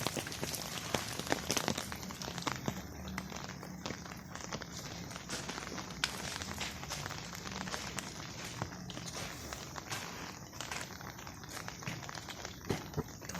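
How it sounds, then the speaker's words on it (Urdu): Steady morning rain in the first rain of winter, a dense, even hiss of drops spattering on surfaces, close and continuous, with scattered sharper taps and crackles throughout. "تو یہ آج صبح کا ٹائم ہے اور خوب مزیدار بارش ہو رہی ہے، بہت اچھی بارش ہو رہی ہے"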